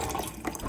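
Water poured from a bottle into a mug beside a clean kitchen sink, a short, steady, close trickle and fill with no talking.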